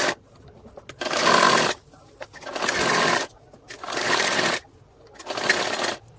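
A domestic sewing machine stitches a salwar seam in four steady bursts of about a second each, separated by short pauses.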